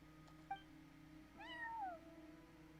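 A black cat minding the front desk in Genshin Impact gives a soft short chirp, then a longer rising-and-falling meow, both fairly quiet over a low steady background hum.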